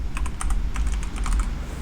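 Rapid keystrokes clatter on a computer keyboard as a cheat command is entered, a steady run of crisp clicks over low background hum with no voices.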